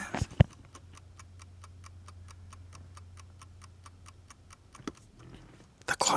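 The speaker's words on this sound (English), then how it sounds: "The clock is working." The repaired dashboard clock of a 1969 Mercedes 280SE ticks in an even, rapid rhythm, close and clear over a low hum, with a few knocks and handling noises at the start and end.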